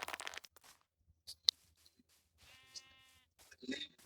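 Video game goat bleating, a short synthetic bleat with a harmonic tone, heard after crunchy wood-chopping clicks and a brief sharp hit. Quiet overall, with a few sounds near the end.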